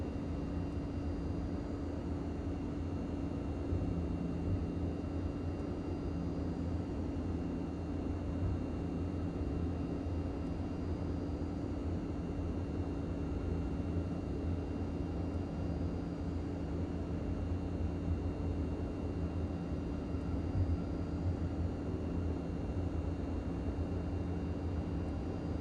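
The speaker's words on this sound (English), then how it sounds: "Do a little bit of a fast taxi here." Mitsubishi MU-2 twin turboprop in Microsoft Flight Simulator during a fast taxi, a steady droning engine roar with a low hum and faint high whine, constant and unbroken throughout.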